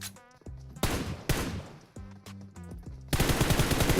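Automatic gunfire in the PUBG Mobile video game, rapid loud bursts of shots with ringing metallic tails, interrupted by brief pauses and ending in a dense, sustained volley.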